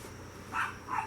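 A dog gives two short, mid-pitched barks in quick succession, fairly distant and moderately quiet, over a steady low room hum.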